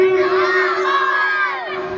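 A crowd at a Muharram religious gathering chants the Nara-e-Takbir slogan back in unison, a loud, sustained collective shout of many voices that swells and then fades over about two seconds.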